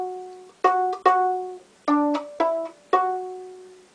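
Single bowed violin notes on the D string, played with the second finger, sound as five separate clear tones with breaks between them, played alone and close.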